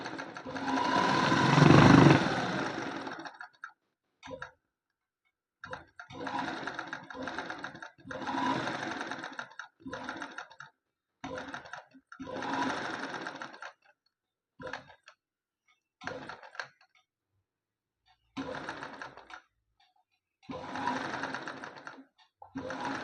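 An embroidery machine runs in bursts, sewing straight running stitches with a fast rhythmic mechanical clatter that stops and restarts repeatedly, close and fairly loud.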